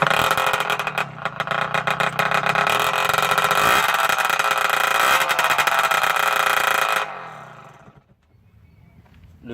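A car engine revs hard through an exhaust pipe fitted with test washers, a loud, rough, buzzing roar sustained for about seven seconds before it cuts off to a faint idle.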